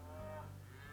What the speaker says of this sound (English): here's 1 cow, 1 cow